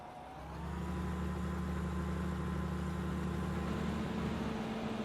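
Combine harvester engine in the video game Farming Simulator 15, a steady droning rumble that revs up in the first half second and then holds a loud, even pitch with a faint whine on top.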